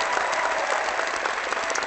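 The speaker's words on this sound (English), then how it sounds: "let's have an applause for what is going to be the greatest story ever" An audience bursts into loud, dense applause before a storytelling performance of scary stories, a continuous close wash of many hands clapping throughout.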